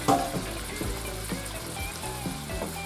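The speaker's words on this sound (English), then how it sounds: "So I'm going to put these shrimp in here." Shrimp sizzle and pop as they drop into a pan of pasta sauce, with soft repeated clinks and stirring taps over a steady bubbling fry close to the pan.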